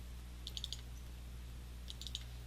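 Mouse clicks at a computer running CorelDRAW, two quick crisp double clicks separated by a pause, small and close against a low steady hum.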